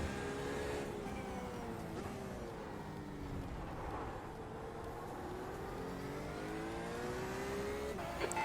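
Race car engines roar continuously in a racing video game practice session at Interlagos, with rising and falling harmonic whine as a faster-class car closes in and passes, loud and steady throughout.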